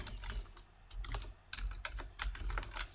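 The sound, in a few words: typing on a computer keyboard in AutoCAD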